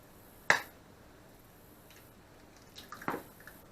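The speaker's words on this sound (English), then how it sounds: "I'm going to throw in 1 large egg." A large egg cracks sharply against a bowl and drops into keto waffle batter, one crisp tap followed by a softer wet crack and plop a few seconds later, close and quiet in an otherwise still kitchen.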